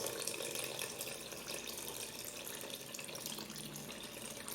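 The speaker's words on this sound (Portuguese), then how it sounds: "Vou colocar a minha água da receita." Water is poured into a bowl for sourdough bread dough, making a soft, continuous splashing trickle that stays faint and even throughout, with no talking.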